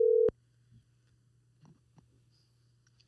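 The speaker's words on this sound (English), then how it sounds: "Phone's ringing" A single loud telephone ring tone bursts out at the start, then cuts off, leaving a quiet hum with faint small noises.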